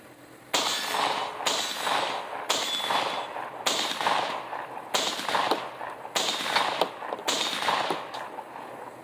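A Panzer Arms M4 shotgun fires a string of eight sharp, loud reports at irregular intervals of roughly a second, each with a booming tail and ringing echo, close and with no talking.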